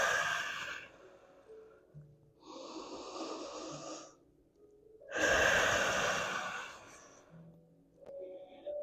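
Slow, deep breaths in child's pose during a yoga flow while recovering from exertion. Long audible inhales and exhales come in separate swells with pauses between them, close and fairly soft.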